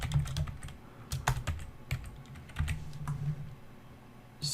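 Rapid, uneven computer keyboard typing, close and fairly loud, with clusters of sharper keystrokes and brief pauses, no voices over it.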